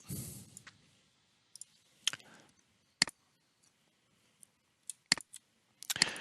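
Sharp computer mouse clicks sound singly and in quick pairs at irregular intervals, faint and close over a quiet room with a little low rustle at the start.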